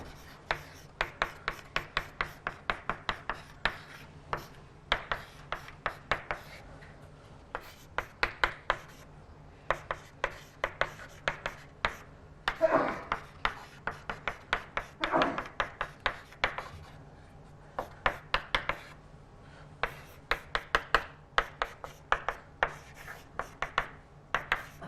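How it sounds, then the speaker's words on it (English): Chalk writing equations on a board during a lecture on computational methods for mean-field games: rapid, rhythmic taps and scratchy strokes in steady bursts with brief pauses, close and moderately loud, with no talking. "let me just copy, write down again"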